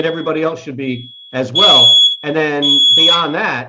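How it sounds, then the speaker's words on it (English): A high, steady electronic alarm tone, like a fire or smoke alarm, sounds in two long stretches beneath someone talking continuously indoors. "that's the fire alarm. That'll go off."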